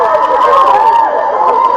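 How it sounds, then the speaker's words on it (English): A crowd cheers and shouts together in a played recording, a steady, dense wash of many voices held at an even level throughout. "Look at them cheer, yay, elites!"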